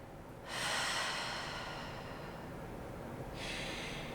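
Slow, deep breaths drawn in and let out during a pelvic floor stretch, each airy breath long and close, with a second breath starting near the end and no talking.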